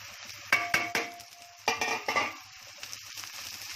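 Green peas tipped into a pan of frying onions and coriander, with a few sharp clatters and scrapes of a spoon against the pan over a soft, continuous sizzle, close and fairly quiet.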